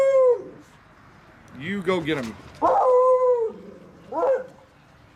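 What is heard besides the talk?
beagle howling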